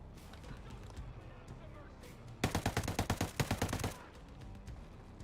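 Burst of gunfire in the shooter Ghost Recon Breakpoint: a loud, rapid string of about a dozen shots over a second and a half, with a voice talking before and after.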